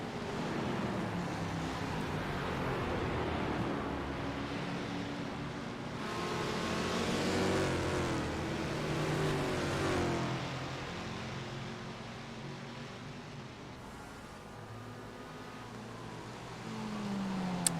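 Race cars in an iRacing production car race at Watkins Glen, a red number 25 Mustang with a Volkswagen and a Mazda close behind, their engines a steady blended roar that swells and fades as they pass.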